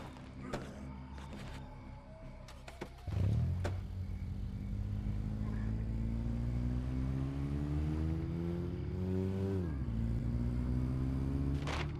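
A car in the video game State of Decay starts with a thump, then its engine rumbles and revs steadily, rising in pitch as the car accelerates, with a brief shift near the end.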